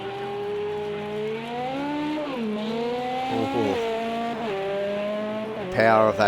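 A Toyota race car laps Monza in an endurance racing sim, its engine note climbing and dropping through gear changes at moderate loudness, with a sharp burst near the end.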